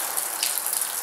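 Water running inside an abandoned century-old school building, a steady broadband rush and gush filling the short moment, fairly loud and close with no voices.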